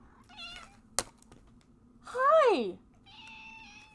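A pet cat lets out a loud, rising-then-falling meow near the microphone, with a brief sharp knock just before and a voice speaking briefly before and after.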